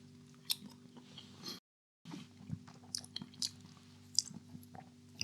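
Close-up chewing and biting of a Dr Oetker Ristorante mozzarella pizza, soft wet crunches and squishy mouth sounds at an irregular pace, quiet, with a brief gap of silence partway through.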